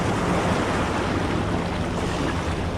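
Ocean surf rolling in at a sandy shore on the Carlsbad, California coast, a loud, continuous wash of waves with wind buffeting the microphone and no talk.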